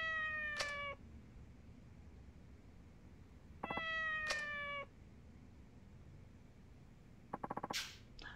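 Cats in the video game Yakuza 4 meow in three separate calls spaced a few seconds apart, clear and fairly close over a low background hum.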